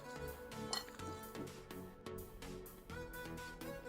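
A spoon stirs minced keema kebab mixture in a bowl, giving repeated clinks and scrapes against the dish in an irregular rhythm, close and fairly soft.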